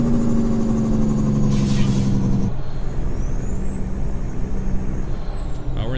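Truck engine from American Truck Simulator cruising in top gear, a 600HP CAT, steady droning hum that drops away midway, leaving broad road noise with a brief hiss burst and a faint rising whine, no speech.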